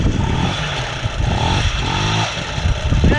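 An MBK Motocomfort 40 moped's small engine catches and runs with a clattering, buzzing idle, close and steady throughout.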